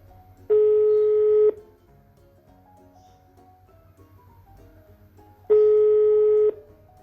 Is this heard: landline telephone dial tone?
yes